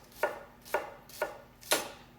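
Four crisp, evenly spaced knife chops dice ingredients for fried rice on a cutting board, close and clear in a quiet kitchen.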